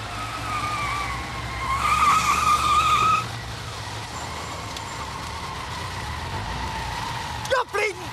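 A Ford Escort turns at a junction and then speeds away, its engine note climbing with a brief tyre squeal before fading into distance under steady traffic hum; a sharp rattle or knock follows near the end.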